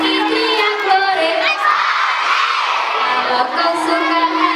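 A crowd of schoolchildren at an elementary school language-month celebration shouts hooray in unison during a sing-along, loud and sustained, a bright massed cheer with the song's melody running underneath.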